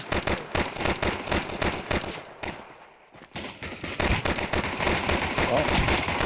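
Dual Beretta pistols in Counter-Strike 2 fire in dense, rapid overlapping volleys of sharp shots from several players, pausing briefly midway before resuming heavily, with excited commentary talking over them.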